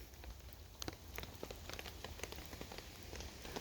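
Heavy outdoor downpour patters steadily on surfaces nearby, a dense even hiss broken by scattered individual drop taps, quiet and continuous without speech.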